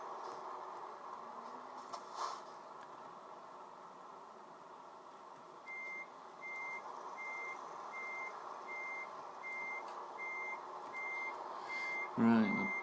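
A reversing truck in Euro Truck Simulator 2, a Volvo FH16, sounding evenly spaced high beeps over a steady engine drone, moderately faint, with brief talk-like bursts near the start and end.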